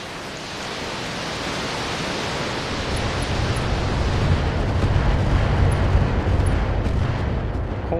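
An artillery turret fires in a video game as drop pods come in, a continuous loud roar of blasts and rumbling that swells steadily with no speech over it.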